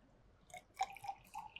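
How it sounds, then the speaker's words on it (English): Distilled water poured from a 50 millilitre measuring cylinder into a round bottom flask, a few short, faint splashing drips in a quiet room. "So now we'll be transferring"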